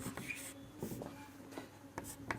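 Marker or chalk scratching on a board during an electrostatics lecture, a few short strokes and squeaks at moderate level over quiet room tone.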